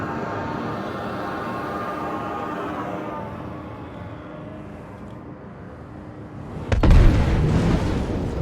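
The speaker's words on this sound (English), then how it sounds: "It has to end with an explosion." Gatac Syulen alien ship exploding in Star Citizen: a sudden loud deep boom late on, after a steady engine hum, followed by a rumbling tail, with no talk.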